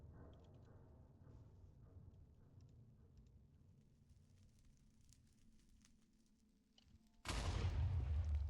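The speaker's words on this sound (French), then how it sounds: "il y a des explosions partout" A sudden, loud, sustained explosion blast from Minecraft gameplay bursts in near the end after a long stretch of low, quiet background rumble.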